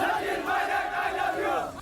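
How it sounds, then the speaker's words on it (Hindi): A crowd of Sachin Pilot supporters chants slogans in unison in Dausa, Rajasthan, during a political rally. The dense, loud roar of many voices holds steady throughout and eases off only at the very end. "उन्होंने राहुल को भूलकर एक सुर में पायलट जिंदाबाद के नारे लगाए"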